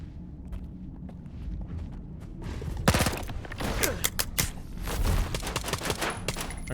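An automatic gun in a video game rattles off in quick, loud bursts, the shots coming sharp and close in uneven clusters after a quieter stretch with soft footsteps and movement.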